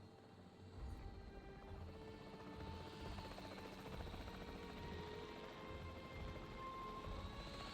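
A capture team helicopter in Jurassic World Evolution 3 drones continuously with a steady rotor thrum, faint and unbroken throughout, with no talk over it.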